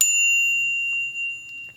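A Knog Oi! bicycle bell gives one crisp, loud ding that starts the moment the sound begins, then holds a pure ringing tone that fades slowly across the rest of the time, with no voices.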